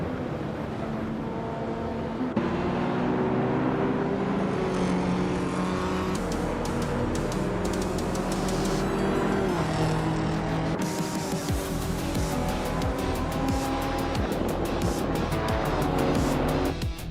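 Race cars roaring in an AI racing video game, engines droning and shifting pitch continuously with passing whooshes and occasional tire squeals, loud and steady throughout with no talking.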